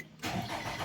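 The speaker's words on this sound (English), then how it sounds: "turn the key off, and let's start it up" A Nissan Rogue with a P0011 fault cranks and catches after a short quiet moment, then settles into a steady, close engine rumble; no speech.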